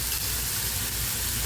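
Moringa leaves frying in a pan after salt is added, giving a steady close sizzle and hiss with no pauses.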